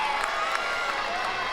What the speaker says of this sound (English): As soon as the crack of the bat happened, the crowd erupted.